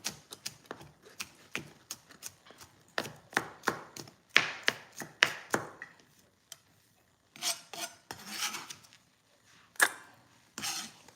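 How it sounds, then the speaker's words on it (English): A knife rough-chopping smashed garlic on a cutting board, a quick series of sharp close knocks in uneven bursts, then a pause and a few scraping strokes, with no talk. "Okay, rough chop."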